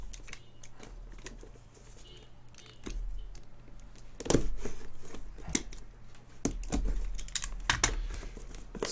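A cardboard box for an Otterophile keycap is cut open at close range with scattered sharp clicks and tearing scrapes, several louder slicing bursts coming in irregular clusters toward the end, with no talking.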